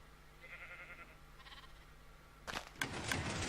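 Sheep in a Minecraft wool farm, including a lamb, give short bleats over a steady low background, a couple of faint calls first and then several louder, closer bleats clustered toward the end.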